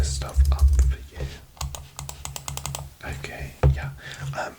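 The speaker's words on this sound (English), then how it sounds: "I'm just going to start typing this stuff up for you" Quick, crisp clicks of fingers typing on a computer keyboard in a quiet room, coming in bursts and pauses while a soft voice speaks over them.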